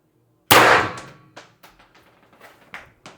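A Pistelle X-68 CO2 pistol fires one sharp, loud shot, and the pellet clangs off a metal target. Fainter clicks and knocks follow in a loose, uneven run.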